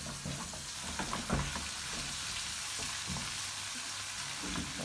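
Bacon crisps in a frying pan with a bright, steady crackling sizzle up close, broken now and then by a soft stir.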